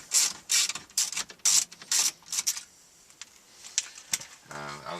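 Screwdriver backing out a T20 mounting screw holding the stereo in a VW Passat dash, a series of close, sharp ratcheting clicks in quick bursts, then quieter scattered taps.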